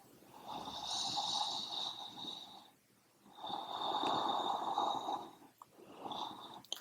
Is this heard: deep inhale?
yes